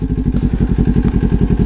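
A motorcycle engine starts in first gear with the clutch held, settling into a steady, loud, rapid thumping idle close by, with no talk over it.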